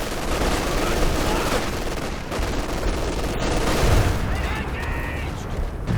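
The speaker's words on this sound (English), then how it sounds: "that would be one of the worst Calliope barrages so far" A Calliope rocket barrage in the Company of Heroes 2 video game, a dense, loud, continuous roar of launches and blasts with rumbling low end, filling the whole stretch.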